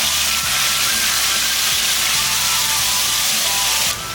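Ginger pickle sauce hitting hot oil in an iron wok, a loud, close, continuous hissing sizzle with faint clatter underneath, dropping off near the end.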